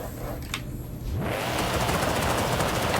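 A 2003 Ford Mustang SVT Cobra with 1,000 horsepower revs hard in Forza Horizon 5, a brief quieter idle giving way to a loud, sustained, rough engine roar that fills the rest.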